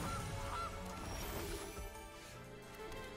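A goose honks when the Gilded Goose card is played in a digital card game, with a few brief squawks over a busy game soundscape and no talking.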